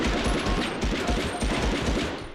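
An MP40 submachine gun fires in Medal of Honor, a rapid sustained burst of close, loud automatic shots in an even rhythm, with the last shots fading slightly.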